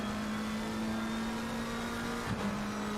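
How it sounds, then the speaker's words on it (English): A McLaren GT3 race car in a racing video game, its engine holding a loud, steady drone at near-constant pitch, with a brief dip and shift just before the end. "Get that McLaren going."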